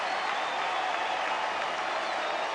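A large crowd at a Cleveland Indians playoff baseball game against the Red Sox roars and applauds in a dense, continuous wash of cheering with no pauses.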